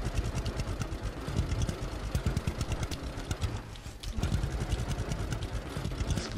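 A tractor engine hums steadily while pulling a baler in the farming game Farmer's Dynasty, a continuous mid-pitched drone with mechanical rattle and no break.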